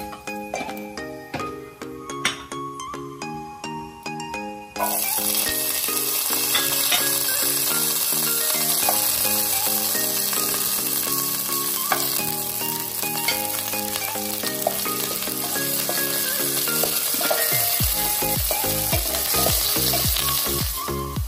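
Onion tempering sizzles and crackles in hot oil in a pan for a Tulu-style arepuda pundi dish, loud and steady with stirring clinks, following a few seconds of quieter cooking sounds.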